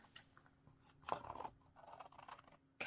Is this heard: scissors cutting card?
yes